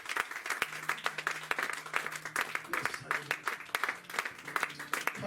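A church congregation applauds, dense clapping running throughout with scattered sharp claps close by, while voices and a sustained organ-like tone sound underneath.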